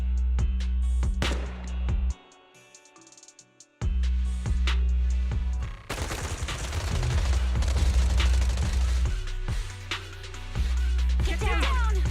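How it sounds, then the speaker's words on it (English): Sustained bursts of automatic suppressive gunfire in Zenless Zone Zero, mixed with explosions and rumbling, loud and chaotic, with a brief lull partway through. "Gunfire? This pattern. Suppressive marching fire."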